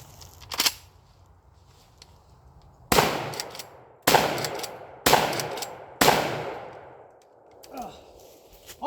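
A Civet 12 shotgun fires at a shooting range: four loud, sharp blasts with echoing decay, spaced about a second apart, preceded by a fainter earlier report and followed by quieter handling sounds.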